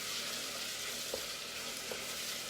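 Onions sauté in a pot with a steady, soft sizzle, a faint background hiss broken by a couple of light clicks or stirs, with no talking.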